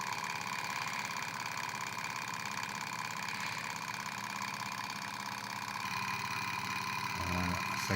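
A small Stirling engine runs steadily at about 2150 rpm, giving off a continuous buzzing, whirring drone with a faint rhythmic ticking, heard up close.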